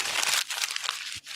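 A paper letter crumpled by hand gives a close, crackling crinkle in a few quick bursts with short gaps between, ending in a soft dull thump.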